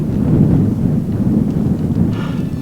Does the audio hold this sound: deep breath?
no